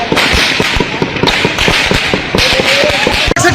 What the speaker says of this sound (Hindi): भरपूर तरीके से फायरिंग हो रही है।